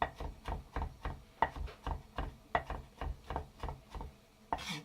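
A knife chops eggplant on a board in a quick, steady rhythm of about a dozen close, distinct thuds, fairly quiet, with no voices.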